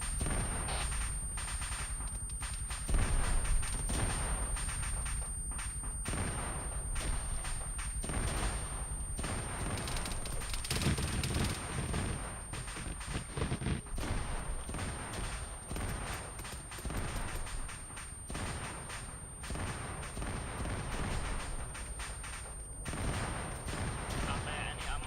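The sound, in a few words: heavy gunfire in the video game Modern Warfare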